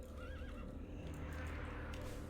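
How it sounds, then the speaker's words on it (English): A horse mount in World of Warcraft Burning Crusade Classic gives a wavering neigh with faint hoof clops, over a soft steady in-game ambience, heard at moderate distance without any talking. "My horse made like a strange noise when I dismounted."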